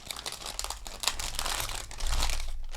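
Thin plastic bag crinkling as a ball of metallic yarn is pushed inside for crochet work, a steady close rustle that grows louder and denser near the end.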